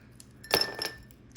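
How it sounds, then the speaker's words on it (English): A couple of ice cubes clink into a glass for a Bloody Mary, a short cluster of sharp, close clinks that rattles off quickly in a quiet room. "And then I just grab a couple ice cubes."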